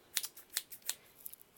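Ridged scissors cutting strips from a small egg carton: a few quick, crisp snips spaced irregularly, close and fairly quiet, with no voices.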